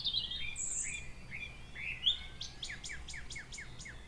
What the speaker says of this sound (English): Wading birds on the Northumberland coast.